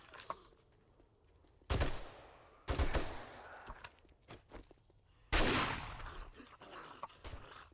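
Shotgun blasts hit zombies in the video game 7 Days to Die, three loud booming shots spaced a second or more apart, each decaying over quiet footsteps and faint ambient noise.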